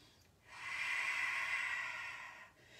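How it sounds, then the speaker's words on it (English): A slow, steady breath drawn in a yoga pose, a soft airy hiss that swells for about two seconds and then fades, close and alone in a quiet room. "Take about 2 more breaths."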